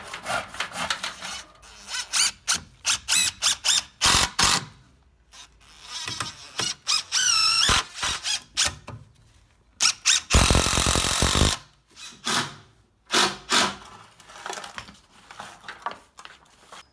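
A power tool drives screws straight into 2x4 timber lintels while a PVCu sash window is fitted, in repeated short loud bursts with pauses between them, one longer grinding run near the middle, close by.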